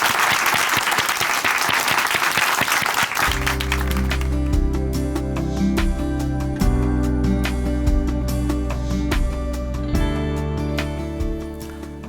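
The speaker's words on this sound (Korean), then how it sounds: "춘천 한마음교회 이상두 형제님 박수로 모시겠습니다." A church congregation at Chuncheon Hanmaeum Church claps loudly for about three seconds to welcome a speaker, then the applause gives way to steady instrumental music that continues underneath.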